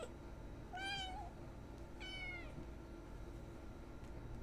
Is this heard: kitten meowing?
yes